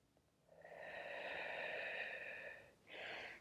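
A single slow, breathy exhale lasting a couple of seconds, followed by a short, quicker breath, taken quietly and close during a Pilates arm stretch.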